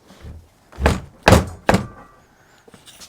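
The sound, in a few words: garage door being shut against the wind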